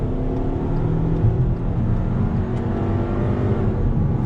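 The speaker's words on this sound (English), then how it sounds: "let's do another on throttle here. So on throttle, 6-speed drops down." A 2020 VW Passat pulls hard under throttle as its 6-speed automatic drops a gear, giving a steady, loud, close engine drone with a rising rev and a low cabin rumble throughout.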